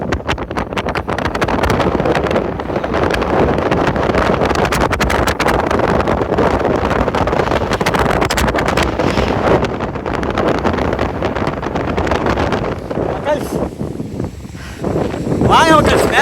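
Strong wind buffets the microphone atop Kondarangi hill, a loud, continuous roaring rumble with brief dips, while a voice talks over it.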